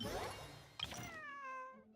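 A cat in the video game Genshin Impact gives a couple of clear, close meows, the second a drawn-out, tonal cry that fades away after a brief thump.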